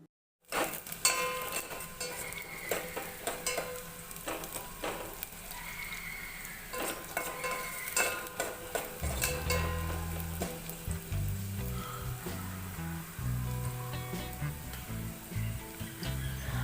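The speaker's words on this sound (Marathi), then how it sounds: "पातेलं गॅसवर मी ठेवलेलं आहे तेल तापत आहे आणि यामध्ये आता मी घालणार आहे कांदा बारीक चिरलेला कांदा फोडणीसाठी" Finely chopped onion sizzles in hot oil in a pot on a gas stove for a Malvani crab curry tempering, a steady, fairly loud frying crackle with occasional stirring clinks, no voices.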